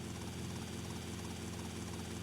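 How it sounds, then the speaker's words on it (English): A helicopter in the video game GTA Vice City roars with a dense, steady rotor and engine drone, loud and constant throughout with no talking. "I'm actually getting in my helicopter, which I parked around the back of the mansion prematurely"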